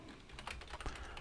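Quick, quiet keystrokes on a computer keyboard, a close, irregular run of soft clicks with no voices.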